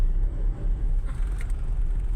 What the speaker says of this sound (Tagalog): Nagsalubong tayo sa mga traffic papuntang Tagaytay